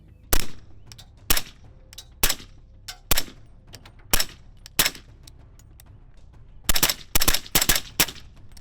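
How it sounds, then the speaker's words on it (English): Suppressed 300 Blackout rifle fired through a Griffin Armament suppressor: sharp cracks spaced about a second apart, then a quicker cluster of several shots near the end, each followed by brief quiet. "We got the 300 blackout Griffin Armament can."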